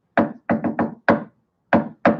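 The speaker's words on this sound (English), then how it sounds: "I do that kind of a knock." Knuckles rap on a door in a quick rhythmic pattern of seven sharp, close knocks, grouped with short pauses between them, alone with no voices.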